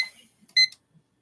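A timer during a printed-planner game night setup gives a short bright electronic chime, a single brief tone burst after a faint fading ring, then quiet.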